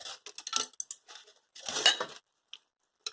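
Metal utensil scooping food out of a dish as Hawaiian appetizers are served, a few quiet scrapes and clinks in short bursts separated by silence.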